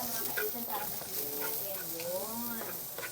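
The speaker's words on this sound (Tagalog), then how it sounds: "So, gisa lang ng bawang saka sibuyas." Garlic and onion sauté in a pan with a steady, soft sizzle while people talk over it throughout.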